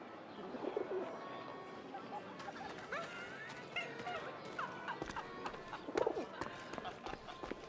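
Faint pigeon cooing and a few soft wing flutters drift through a quiet game scene set in Paris during wartime, with speech murmuring alongside.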